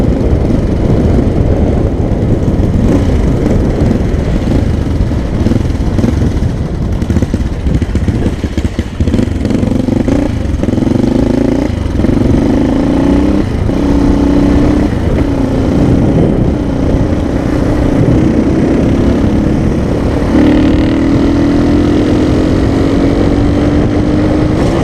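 A 1981 Suzuki PE250 six-speed two-stroke motorcycle runs loud and close for the whole stretch, a constant raspy engine drone with rising revs and rev blips toward the middle and end, and no voices.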